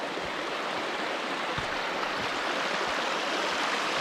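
Running water streaming steadily across a hiking trail on Mallorca's GR221 route, a close, continuous broadband rush with no talk over it.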